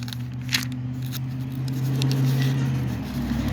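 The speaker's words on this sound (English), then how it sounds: "Sorry for all the road noise" Road traffic outdoors on a sunny day, a steady low rumble of passing vehicles with a droning engine hum that swells in the middle and fades, plus a few faint handling rustles nearby; no speech.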